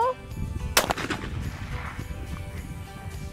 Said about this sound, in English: make sure the gun's on your shoulder before you shoot